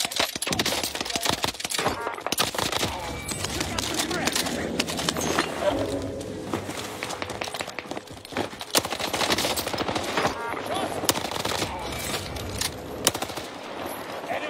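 Video game gunfire with dense, continuous automatic bursts and rapid shots running through the whole stretch, loud and close, with brief gaps, over game ambience and other sounds.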